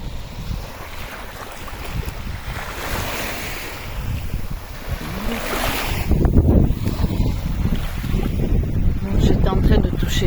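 Waves breaking on the beach at Istres, a steady rolling surf with heavy wind buffeting the microphone, growing louder and rougher partway through.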